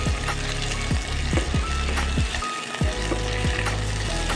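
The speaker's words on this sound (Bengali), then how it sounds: "সবজিগুলোকে ভালো মতো ভেজে নেব" Chopped vegetables fry in a pan for a meat poha breakfast dish, giving a close, constant sizzle with regular scraping stirs and a brief pause midway.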